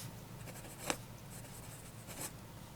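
Esterbrook Dollar vintage fountain pen scratching across a notepad, soft faint nib strokes with a couple of sharper scrapes standing out, quiet and close with no talking.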